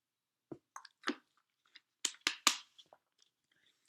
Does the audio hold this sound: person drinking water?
yes